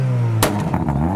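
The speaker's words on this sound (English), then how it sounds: "It was a wheel spin." A four-wheel-drive car does a wheel spin, its engine holding a steady loud drone and then climbing in a sharp rev with a burst of scrabbling noise, close by and alone.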